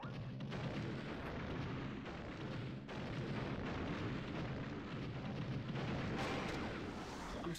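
Video game gunfire and explosions in a dense, continuous barrage of booms and bursts, fairly quiet overall with no talking.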